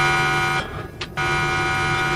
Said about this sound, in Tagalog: Uy, may alarm di ang camera app ng cellphone na nga.